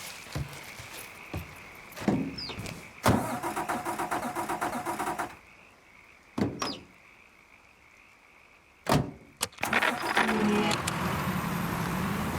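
A car engine in the video game Mafia III cranks and starts amid clicks and door-like thuds, then idles with a steady hum between several sharp transients; no speech is heard.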